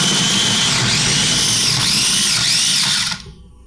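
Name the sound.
food processor mincing garlic cloves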